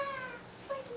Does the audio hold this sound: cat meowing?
yes